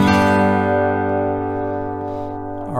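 An acoustic guitar chord strummed once with the A string muted, ringing out clearly and sustaining as it slowly decays, with no talk over it.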